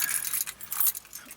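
Keys on a CKRC lanyard jangle in a short, bright metallic clatter up close, with a louder shake near the end, all without talk.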